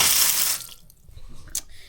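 Water gushes from a tap through a winter-cracked cage tank pump, a loud splashing rush that cuts off abruptly, leaving quieter dribbles and a brief spurt near the end.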